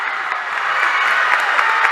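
A high school basketball crowd at a WIAA Division 4 sectional semifinal, Darlington against Mineral Point, erupts after a transition slam dunk, with sustained applause and cheering rolling steadily throughout.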